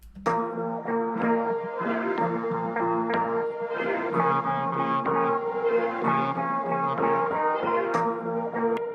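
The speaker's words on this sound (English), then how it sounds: "just add one piano that's playing one note" A piano holds a single A-sharp, ringing and sustained with a rich resonant tone that keeps sounding for several seconds.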